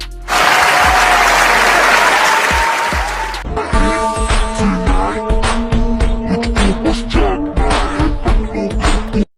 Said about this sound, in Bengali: এই হাততালি কম দেন